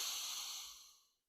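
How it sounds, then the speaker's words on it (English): One long, smooth inhalation through the nose during a standing mobility exercise, close and breathy, fading out to silence after about a second. "I'm going to take a breath in"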